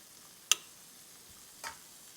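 Butter melts in a frying pan before fish goes in, giving a faint steady hiss with two sharp clicks from the pan or utensil.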